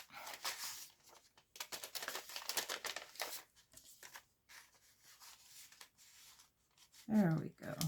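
A paper window coin envelope with a wrap closure is handled close up, giving soft crinkles, rubs and papery rustles in uneven bursts, with a voice speaking over parts of it.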